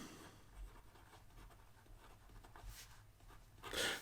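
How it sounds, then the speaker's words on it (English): A Venvstas Carbon T fountain pen with a broad stainless steel nib writing on paper, faint close scratchy strokes in short irregular runs, ending with a louder rustle. "So here we go with the writing sample for the Venvstas"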